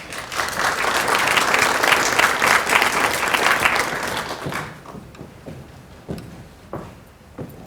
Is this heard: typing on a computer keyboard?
no